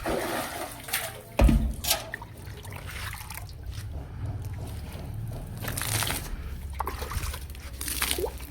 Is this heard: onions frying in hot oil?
no